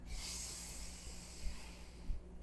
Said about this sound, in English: Inhale to chant.